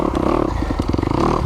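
A Kawasaki KX250X dirt bike engine on mountain single track, loud and close, with a choppy, pulsing rasp and clattering mechanical texture throughout.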